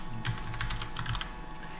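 Keystrokes tapped on a computer keyboard while entering text in a web coding lesson, a steady run of close clicky presses over a constant low background hum.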